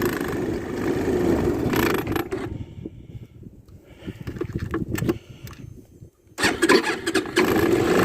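An engine with freshly redone CDI wiring starts and runs with a hesitation, its steady close-up drone sagging and nearly cutting out midway before picking back up loudly.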